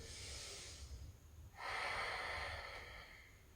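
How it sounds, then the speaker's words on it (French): Deep breathing during a yoga vinyasa flow, a slow breath in then a longer, stronger breath out through the nose, close and soft against a quiet room hum. "Une bonne respiration."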